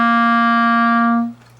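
A clarinet holds a single steady C note with thumb hole and first three fingers down, clear and close, ringing about a second before stopping cleanly.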